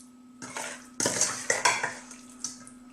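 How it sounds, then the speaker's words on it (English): Marinated rohu fish is mixed around in a bowl, giving scattered clinks and scrapes of utensil against dish, with a few sharper knocks and no talking. "we're just going to mix this around"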